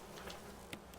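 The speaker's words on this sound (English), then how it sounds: "Oh, bees." A swarm of bees in Resident Evil Remake, a faint low buzzing drone with a couple of short ticking clicks, quiet and distant.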